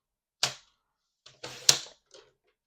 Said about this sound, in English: So I'm going to cut these strips at 1 1/8.